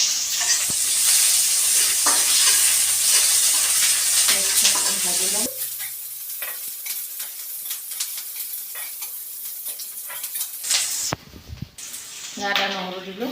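Onion hits a hot pan for a taro and fish curry: a loud, hissing sizzle for several seconds that then settles into a quieter crackle with stirring, someone talking briefly near the end.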